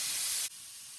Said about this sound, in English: I'm not putting the weight on until I see this column of steam going for 10 straight minutes